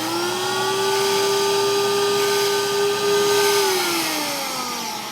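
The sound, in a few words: Record Doctor vinyl cleaning vacuum machine running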